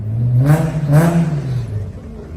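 Car engines rev in rising and falling surges at a late-night car meet, two loud swells back to back, followed by a steadier idle drone, close and dominant.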